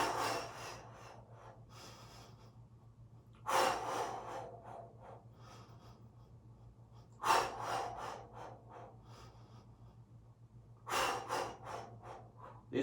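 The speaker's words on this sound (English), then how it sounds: "Let's start breathing." Slow, deep inhale-exhale cycles during a Pilates workout, broad airy breaths swelling every three to four seconds over a steady low hum, close and moderately loud with no voices.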